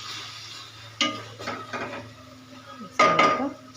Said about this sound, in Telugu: వేసుకొని ఒకసారి మిక్స్ చేసుకోవాలి.